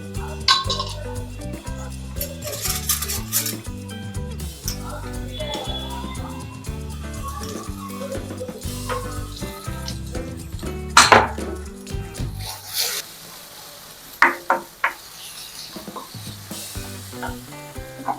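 Chole masala frying and being stirred in a pan: a steady sizzle with occasional clinks of a spoon against metal. Rhythmic background music plays underneath, and the frying becomes quieter and sparser toward the end.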